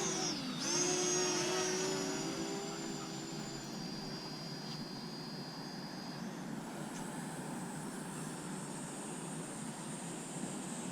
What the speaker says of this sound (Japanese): アナフィをね、フライトプランで飛ばしてみたいと思います。